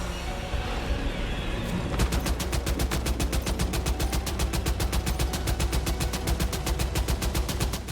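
Sustained rapid gunfire shooting at an enemy in Death Stranding 2: On the Beach, a steady loud stream of evenly spaced shots that starts abruptly and keeps hammering without pause, with a low rumble underneath and no talking.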